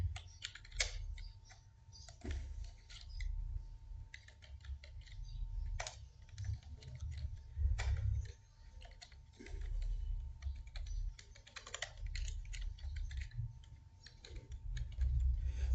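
Quiet, irregular clicking of keys on a computer keyboard while a password is entered, soft close taps in uneven bursts with short pauses and no talking.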